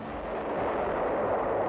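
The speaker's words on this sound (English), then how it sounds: "to serve as a firing platform for batteries of heavy guns" Heavy battleship guns roar in a sustained, loud low boom that swells and rumbles continuously without distinct separate shots, heard alone with no voices.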